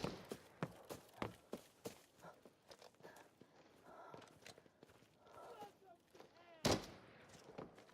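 In an online shooter game, gunfire cracks out as a series of sharp, spaced shots mixed with footsteps. A louder blast comes near the end, and voices talk over parts of it.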